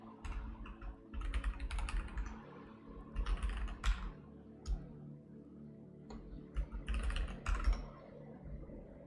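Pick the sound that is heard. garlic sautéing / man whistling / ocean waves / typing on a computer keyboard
typing on a computer keyboard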